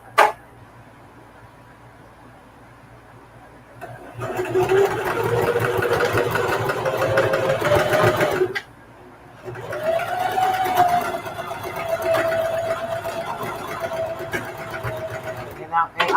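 A sewing machine stitches the handles of a patchwork duffle bag in two runs, each about four to five seconds long, with a short pause between them, a steady close mechanical whir and rattle.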